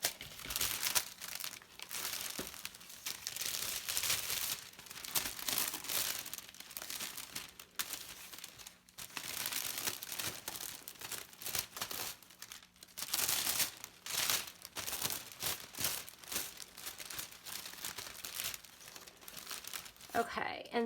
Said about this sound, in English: just put my bucket in the center of my cellophane wrapping, and I just kind of rolled it like that until it met the other side, and then I just cut right across